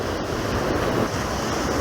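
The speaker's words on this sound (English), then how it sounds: "that is so comforting and soothing, that crashing waves into the shore" Ocean waves roll onto the shore near a lit dock and long jetty at night, a continuous loud wash with buffeting wind noise on the microphone, with no voices.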